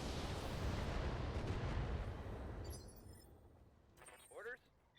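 Artillery fire in the Battletech video game erupts as a heavy, rumbling boom that rolls for a couple of seconds before fading, followed by brief radio-style voices.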